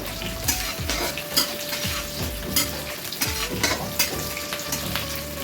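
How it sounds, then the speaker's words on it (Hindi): Onion frying in a pan with mustard paste and spices for pohada fish curry, a steady loud sizzle broken by repeated clinks and scrapes of a spoon stirring, with no talking. "फ्राए होगा पियाज।"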